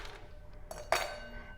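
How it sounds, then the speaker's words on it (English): Ice cubes dropped into a glass, a couple of quick close clinks and a brief rattle within a second, fairly quiet. "I'm going to add some ice cubes"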